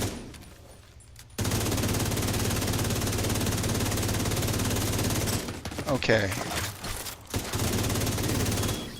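Sustained rapid gunfire rattles continuously in the shooter game The Division 2 as a player fires at drones, with brief breaks and a few other game noises; a voice speaks briefly.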